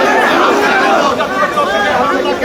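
Jatiya Party activists gather outside their central office in a crowded street protest, a dense wash of many voices shouting and chanting slogans together, loud and continuous throughout.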